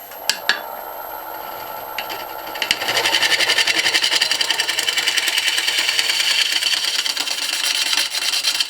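A wood lathe turning a bowl: a few light knocks, then the spinning rises into a loud, steady whirring hum with a fast rhythmic vibration that continues to the end.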